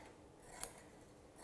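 A single quiet snip of scissors cutting a strip of fabric for an apron, one brief crisp cut in an otherwise hushed moment.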